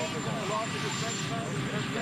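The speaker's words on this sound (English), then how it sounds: "Why can't they mic him up and not do this in front of a fucking helicopter?" A helicopter idles or hovers close by outside during a press interview, a loud steady broadband rotor and engine roar filling the whole stretch with continuous rumble, voices likely talking underneath.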